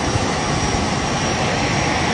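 Steady, loud jet engine roar fills the cabin of a private jet, a continuous broadband drone with no breaks.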